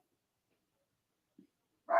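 A dog barks once, loud and close, at the very end, after a quiet stretch with a faint short thump or whimper-like sound just before.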